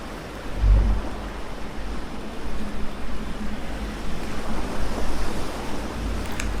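Sea waves wash and surge in a steady roar with wind buffeting the microphone, aboard a sailing sailboat, loud and close, with one heavy low thump near the start.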